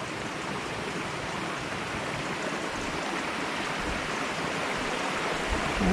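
A river stream at Bunggo River in Barangay Bunggo, Calamba, Laguna rushes in a continuous, close, loud wash of flowing water, unbroken and without voices.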